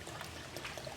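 Vinegar pours into a container of fresh coconut water in a short, close, steady trickle lasting about a second.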